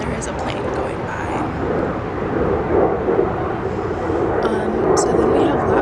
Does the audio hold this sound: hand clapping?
no